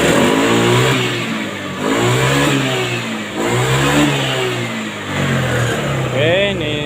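A fuel-injected Honda Beat scooter engine being tested for delayed throttle response revs up and down in repeated loud, close surges, and a voice is heard alongside.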